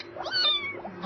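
A kitten gives a few short, plaintive meows while drops are put in its ear, the thin cries rising and falling close by and fairly quiet.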